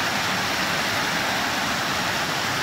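Water rushes steadily past a dam on the way to a waterfall, a loud, close, continuous broadband roar with no pauses or voices.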